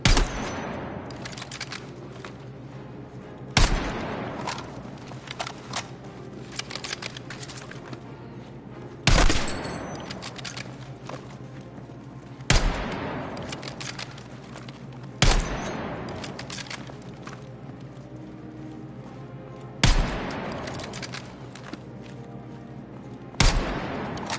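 Rifle gunfire in the video game Battlefield 6: loud single shots every few seconds, each a sharp crack with a short tail, over a steady low background hum.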